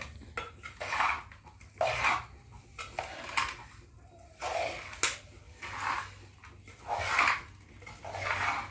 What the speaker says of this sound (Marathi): आता सगळं मिक्स करून घेतो, मग वळणार आहोत लाडू